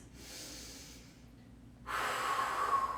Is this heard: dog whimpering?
no